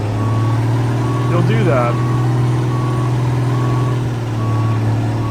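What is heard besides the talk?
truck reversing in high reverse gear, from video game American Truck Simulator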